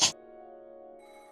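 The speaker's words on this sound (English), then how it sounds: "At that time, the phone rang out again." A telephone ringing in the Umineko When They Cry visual novel, a soft sustained electronic ring tone after a brief click, fairly quiet and alone.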